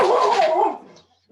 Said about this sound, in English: Somebody came to my door and my dog is alerting me.